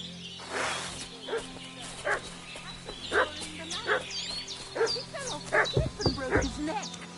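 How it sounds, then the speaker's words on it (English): In the video game Kingdom Come: Deliverance, a dog barks repeatedly at a fairly steady pace, roughly once a second, with a few whimpers and yips mixed in, over a faint ambient background. "What's that dog making such a fuss about?"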